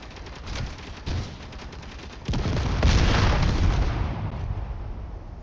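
A railgun fires in a video game: a sudden heavy, broadband blast that swells into a sustained roaring wash and slowly fades, loud and close, following softer scattered thuds.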